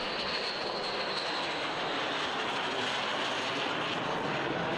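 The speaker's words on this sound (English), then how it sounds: "This aircraft is the J-35" A Chinese J-35 stealth fighter jet flies past with a loud, continuous, airy jet roar that holds steady throughout, without voices.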